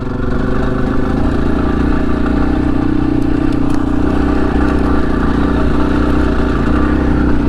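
A Yamaha XT250 motorcycle engine runs steadily and close while riding, its loud continuous drone holding an even pitch and level throughout.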